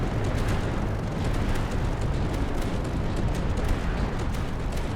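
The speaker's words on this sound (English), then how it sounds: "light mortar should be coming in now" Light mortar rounds exploding in a continuous, rumbling wash of distant blasts and crackling bursts, steady and dense with no single distinct impact standing out.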